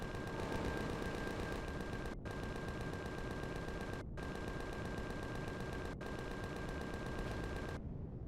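Enemy gunfire in the video game Empyrion Galactic Survival rattles as loud sustained automatic bursts, four long volleys split by short gaps, with no talk.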